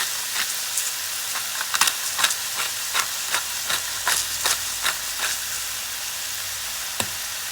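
Seasoned minced meat with salt and black pepper frying in a pan for home-made pasties, a steady close sizzle broken by repeated sharp scraping stirs, with no talking.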